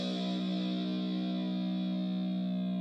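An electric guitar in drop B tuning sounds its low B string, a single distorted note with effects sustaining steadily and loud throughout, with no voices.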